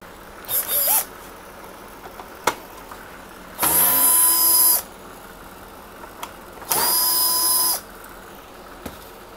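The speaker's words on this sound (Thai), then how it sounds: "เราจะเอาน็อต2ตัวตัวนี้ออกก่อนนะครับ" An electric screwdriver whirs in three separate bursts, one short and two longer, while two screws are backed out of a Canon G Series printer's scanner unit. Quiet gaps fall between the bursts, with a few small clicks.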